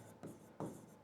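Points being written on a classroom board, two short scratchy strokes about a third of a second apart, quiet and close, with no talking.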